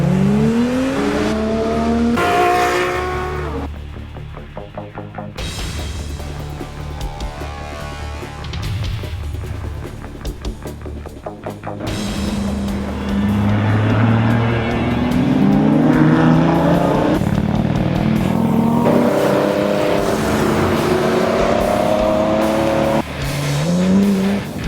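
A car driven hard along a winding North American road, the engine revving up and down through gear changes with occasional tire squeal, loud and close throughout.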